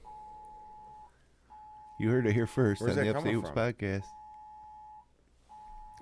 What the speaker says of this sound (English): Yeah, that was an Amber Alert message there.